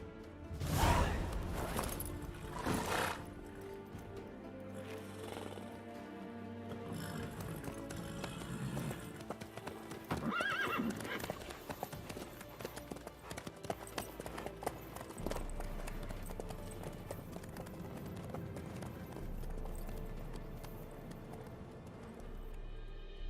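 A horse's hooves clip-clop steadily through The Witcher 3: Wild Hunt, moderately loud under a dense bed of orchestral music and ambient game sound, with no clear talking.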